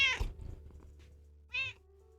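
An older cat lets out two meows, a longer strained cry followed after a pause by a shorter one, close but quiet in an otherwise silent room with a low background hum.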